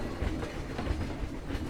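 Rumbling ride aboard a train in the zoo-building game Planet Zoo, a steady low clatter of wheels and carriage noise running throughout with soft rhythmic thumps.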